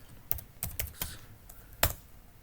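Keys clack on a computer keyboard as someone types a short command in a Linux terminal and presses Enter, giving several close, crisp keystrokes in an irregular rhythm with one heavier final press.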